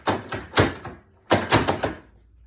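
A stuck drawer on an IKEA Micke desk pulled repeatedly, giving two bursts of clattering, scraping knocks separated by a short pause, close and fairly loud.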